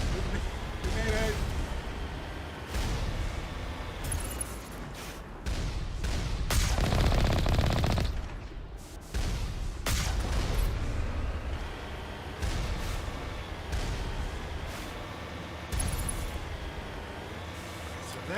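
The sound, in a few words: gunfire from video game Mass Effect Legendary Edition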